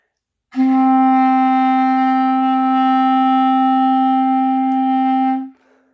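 A single clarinet D note held steadily for about five seconds, full and reedy, loud and close, ending cleanly.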